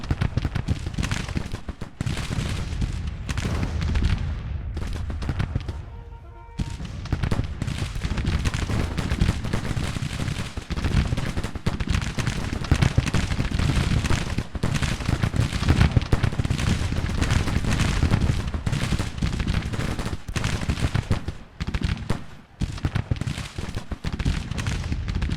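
Musket and rifle fire in a Civil War battle game, a loud, steady stream of overlapping shots and volleys lasting the whole stretch, with one brief lull early on before the firing resumes.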